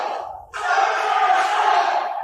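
A capacity crowd at a PPW professional wrestling event roars into loud, sustained cheering and yelling after a brief quieter moment, filling the arena with dense, continuous crowd noise.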